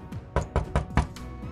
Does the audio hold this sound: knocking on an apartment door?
yes